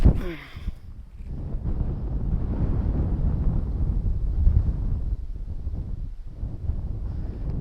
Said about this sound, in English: we got the wind going left to right